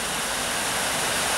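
A waterfall at the Tors in New Mills roars as a steady, dense rush of water that stays even and unbroken from start to finish.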